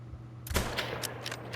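A .338 rifle fires a single sharp shot at a moose during a hunting video game, a loud crack followed by a brief fading tail over a steady low background hum.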